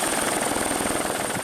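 A news helicopter flies above the flooded, swollen Grand River in Grand Rapids, its rotor a steady, loud, dense rumble with a rapid chopping pulse that holds constant throughout, with no voices.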